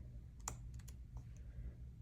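Typing on a Freewrite Traveler keyboard: a quick scattering of light, crisp key clicks, several taps in an uneven burst, close but quiet over a low background hum.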